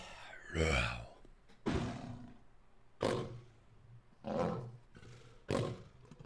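Several separate lion roars from a sound-effect library for a game, each a loud, rough burst lasting about a second with short gaps between them.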